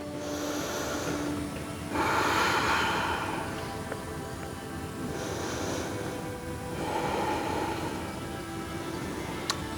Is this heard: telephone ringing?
no